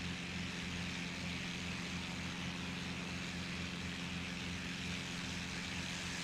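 A Beechcraft F33 Bonanza propeller plane in the X-Plane 11 flight simulator drones with an even engine hum and a buzz from the airscrew, loud and steady throughout with no talking.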